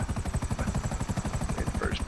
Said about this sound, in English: I've never landed a helicopter in first person